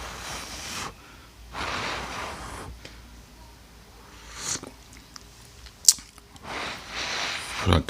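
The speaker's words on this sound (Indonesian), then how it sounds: "kita seruput kopinya dulu terlebih dahulu ya" Hot black coffee slurped several times from a cup, each short airy sip separated by pauses, with breaths and quiet mouth sounds close up and a sharp click near the end.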